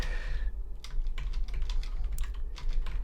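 Keys tapped on a computer keyboard, arrow keys and space bar pressed in quick irregular bursts while playing the 1992 DOS card game Durak, close and clear over a low steady hum.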